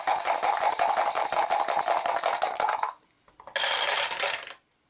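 Dice for the Arkham Horror board game clattering and rattling across a hard surface for about three seconds, then a short pause and a second, brighter burst of rolling; close and loud, no speech.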